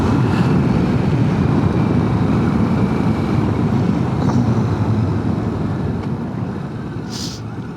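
A motorcycle rides a morning road from Tawonga to Mount Beauty, its steady engine rumble buried under loud, continuous wind rush that fades slightly toward the end.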